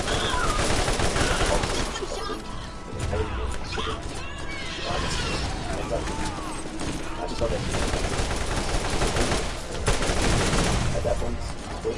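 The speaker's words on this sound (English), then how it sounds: "Somebody's shooting at me" Dense, continuous gunfire from the video game Borderlands, with overlapping rapid bursts and crashing impacts filling the whole stretch at steady loudness, a voice faintly mixed underneath.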